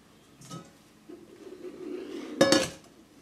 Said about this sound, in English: just take out a bowl, a pretty big bowl